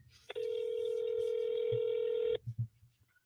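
A telephone tone sounds during a real estate cold call: a single steady electronic tone held for about two seconds, clear and alone, followed by a few faint clicks.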